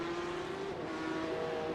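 Porsche Cup race cars at Silverstone in a sim racing game hold a steady, faint engine tone that rises slightly as they pass, with no talking over it.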